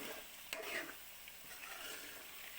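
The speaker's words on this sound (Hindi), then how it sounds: "हमारे गोश्त में घी छोड़ दिया है। अब गोश्त भून चुका है।" Mutton for aloo gosht frying in ghee: a soft, steady sizzle with a brief stirring scrape near the start, faint and close.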